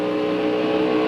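NASCAR race cars roar together in a steady, loud engine drone on the track at the 1999 Alltel 200, continuous with no gaps.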